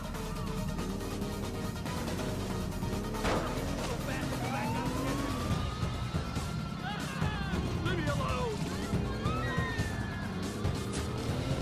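Police sirens wail and sweep in GTA IV as cop cars chase the player's car through alleyways and sidewalks, engines revving under the siren warble, with a voice talking over it throughout.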